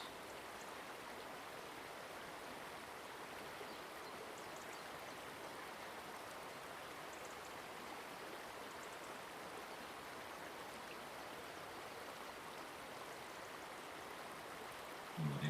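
Steady, continuous rush of stream water flowing over rocks, close and even throughout with no pauses, ending with a brief louder splash at the very end.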